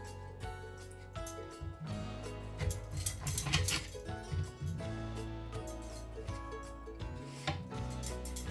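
A knife cuts fruit in half for juicing on a board, with a few soft thuds and clinks close by amid low background hum.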